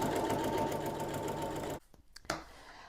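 Sewing machine running steadily while stitching a fabric vanity bucket storage basket, a continuous close buzz that stops abruptly near the end, followed by a few faint handling clicks.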